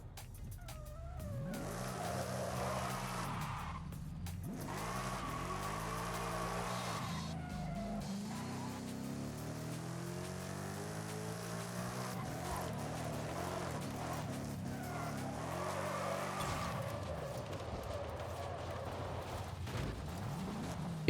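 Game car in Forza Horizon 5 drifting down a mountain road, with a steady engine roar, rising and falling revs as gears shift, and bursts of tire squeal running continuously throughout.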